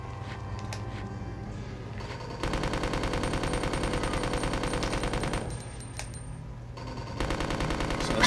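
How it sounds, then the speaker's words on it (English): An unlimited-ammo machine gun in Resident Evil 2 rattles off long, rapid sustained bursts with a brief pause between them, loud and close, with a few scattered single shots at the start. "you get this unlimited ammo machine gun"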